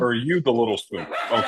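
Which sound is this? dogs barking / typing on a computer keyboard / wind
dogs barking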